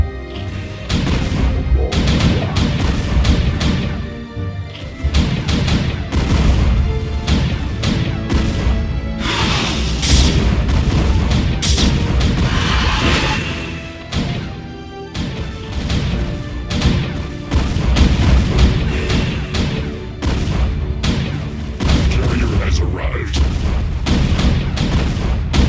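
Dense, continuous battle din from StarCraft: rapid booming explosions and crackling gunfire pound loud and close throughout, barely letting up, as units destroy the enemy's last buildings.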